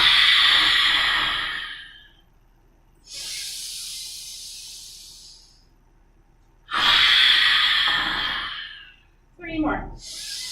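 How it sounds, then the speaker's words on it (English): Slow, deep yoga breaths, long airy inhales and exhales in even alternation, close and loud, separated by quiet pauses, with a short softer breath at the end. "Inhale, open. Exhale out."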